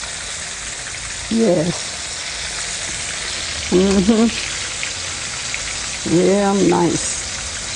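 Fish frying in oil in a pan, a steady close sizzle throughout, with brief spoken remarks breaking in three times.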